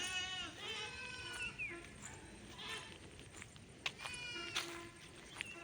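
Goats and young kids on a farm bleating repeatedly, several high wavering calls over steady background noise, fairly close, with someone speaking at times.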